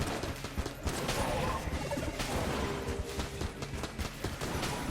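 Backup gun firing in the video game Enter the Gungeon: a dense, unbroken stream of rapid shots and impact crashes, loud and busy throughout, with other game sounds mixed in.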